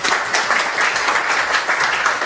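Audience applause welcoming a speaker to the stage at a Spark Lab Wellington talk, a steady, dense wash of many hands clapping throughout, with no voices over it.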